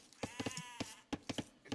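Sheep bleating in the strategy video game Age of Empires: a quick run of short, nasal bleats, close and clear, packed into under two seconds.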